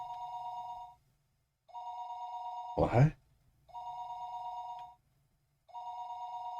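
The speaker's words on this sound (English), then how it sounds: "listening to the dial tone" A telephone rings down the line in the Higurashi visual novel: steady electronic ring tones in regular bursts of about a second with short gaps, interrupted once by a brief spoken word.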